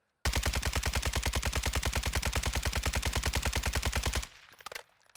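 A Cast Off 762 fires a long, rapid, unbroken burst of automatic gunfire in Warzone 2. The shots are loud and close and run for about four seconds, then cut off into a quiet tail with faint clicks.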